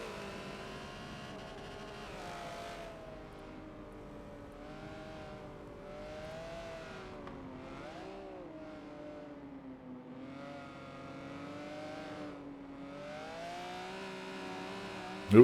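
Race cars at speed on the Le Mans circuit in a Forza racing game, engines droning and revving with rising and falling pitch as gears shift, a steady moderately loud engine whine, with a sudden sharp noise at the very end.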